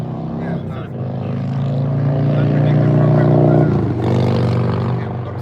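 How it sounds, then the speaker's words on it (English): A motorcycle passes nearby, its engine drone swelling louder then dropping in pitch as it goes by, heard under people talking. "Motorcycle maybe"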